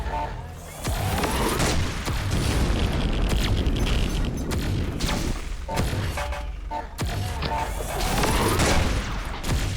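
A tank in Pixel Gun 3D fires repeatedly, and loud booming blasts and bursts pile up in a dense, continuous barrage with brief dips between volleys.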